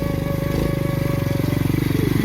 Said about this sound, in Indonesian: Ini anak kecil usia di bawah umur ini udah bawa motor.